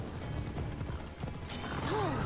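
In Assassin's Creed Odyssey, the horse Phobos trots along with a rhythmic clip-clop of hooves over a steady game ambience, with a brief whistle-like tone near the end.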